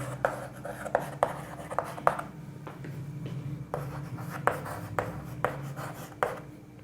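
Chalk or marker writing on a board during a physics class, a run of short scratchy strokes and taps at a steady, close pace with steady room hum underneath.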